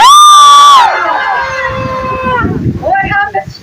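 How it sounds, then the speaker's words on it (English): A group of people scream together at once to startle passersby, a loud high-pitched shout under a second long, followed by mixed voices, laughter and crowd noise. "On the count of 3, let's freak out pedestrians and scream."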